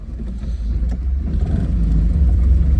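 A car engine hums low and steady, rising slightly as the vehicle pulls out of the garage after new alloy wheels and power steering were fitted, close and fairly loud.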